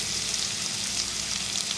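Onions and ginger sizzling steadily in a hot pan as curry leaves go in for a Kerala beef curry, a dense, even frying hiss throughout with no voices.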